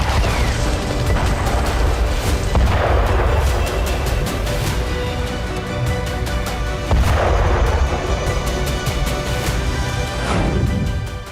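Heavy artillery fire and explosions in the Syrian war, several deep booming blasts spaced a few seconds apart, each with a rumbling tail, loud and close over constant low rumble.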